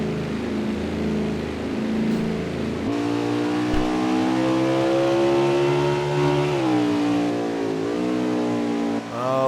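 A Winston Cup stock car rolling down pit road at the Canadian Tire track, its engine a loud, steady droning whine that shifts pitch as it slows and picks up, heard up close.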